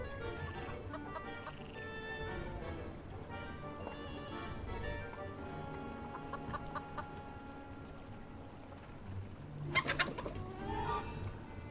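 Clucking chicken in a video game, a steady run of soft clucks and coos over a busy game soundscape with music-like tones, plus a brief louder burst near the end.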